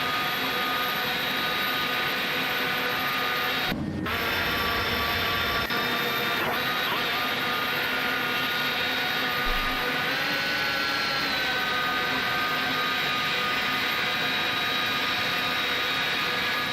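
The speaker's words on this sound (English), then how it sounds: "But the engines on this take like forever to spool up." Loud, continuous roar of A300 jet engines slowly spooling up in a flight simulator, a dense steady whine with a rising tone and a brief thump partway through.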